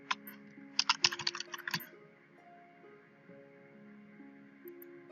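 A quick burst of typing on a computer keyboard as a search is entered, a dense cluster of crisp close key clicks lasting about a second, then quiet with faint tonal hum.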